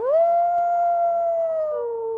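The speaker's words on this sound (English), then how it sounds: "they also howled to communicate with each other and establish their whereabouts and their territory." One long, loud, steady howl, rising briefly and then easing downward at the end, attributed to a dire wolf in an Ice Age natural history museum program. It is heard alone and close.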